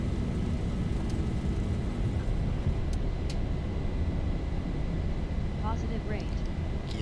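Airliner jet engines roar through the takeoff roll of a Zibo mod 737 in the X-Plane flight simulator, a steady broadband rush that holds evenly throughout, with people faintly talking over it.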